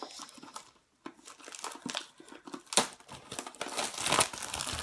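Holiday gift package being opened, wrapping crinkling and rustling close up in irregular bursts, with a brief pause before the handling resumes and builds.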